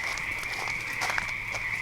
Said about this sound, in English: I'm in the dark with the frogs